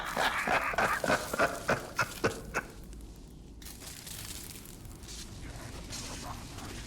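A streamer's dog barks in a quick burst of several sharp barks nearby, then things settle into a quieter background hum.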